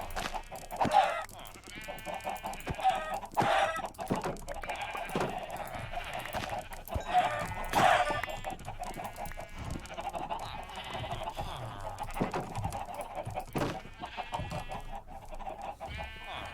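Chickens in the Minecraft video game cluck over and over in short, uneven bursts, with a few sharper squawks rising above the steady game background.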